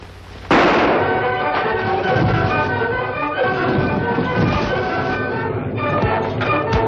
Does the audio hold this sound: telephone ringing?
no